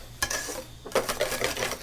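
Mayonnaise ingredients being whisked in a bowl, with bursts of quick metallic scraping and clinking strokes that come close and fairly loud, separated by a short pause.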